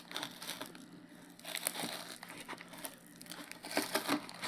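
Plastic product packaging crinkles and crackles while being cut open during an unboxing of a GB Boy Colour handheld console, a close, continuous rustle with irregular louder bursts and no talking.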